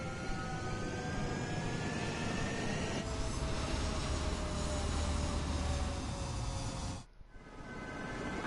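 A fighter jet takes off in Ace Combat 7, a sustained roaring engine with rising whine that swells louder midway, then cuts out abruptly near the end before faint noise returns.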